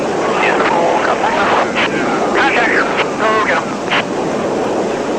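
A loud, sustained roar of Blue Angels jet aircraft pulling a hard maneuver, heavy broadband rumble filling the whole stretch while voices talk over it.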